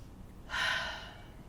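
A single breath during a held yoga pose, a soft airy exhale swelling up then slowly fading, close and alone.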